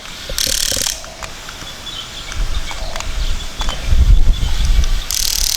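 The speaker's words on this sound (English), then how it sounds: "It kind of feels like this track is getting buggered up with dirt, so you can hear it stripping there." A Huina 1/12 scale RC excavator's track, clogged with dirt, slips and strips, giving repeated mechanical ratcheting clicks and grinding bursts over a steady motor whir, loud and close.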